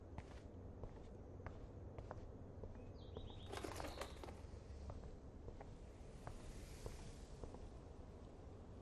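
In Life Is Strange Remastered, a bird takes off with a brief burst of flapping wings near the middle, set against quiet footsteps and soft ambient clicks, with no voices.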